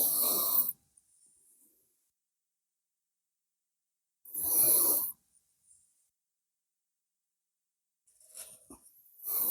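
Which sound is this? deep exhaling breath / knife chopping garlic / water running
deep exhaling breath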